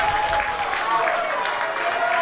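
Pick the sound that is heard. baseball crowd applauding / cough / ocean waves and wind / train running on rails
baseball crowd applauding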